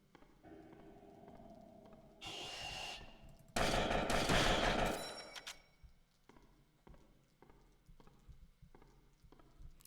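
Rapid bursts of gunfire from an infinite-ammo gun in the horror game Spooky's Jump Scare Mansion: HD Renovation, two dense, loud volleys in the middle, with quieter clicks and thuds before and after.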